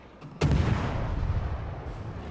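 Naval guns from enemy ships in the World of Warships style game Ultimate Frontier operation, firing at a Siliwangi cruiser, one sharp loud boom followed by a rumbling, crackling roll of distant fire that fades slowly.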